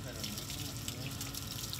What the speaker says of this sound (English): This cold water bath is part of the treatment.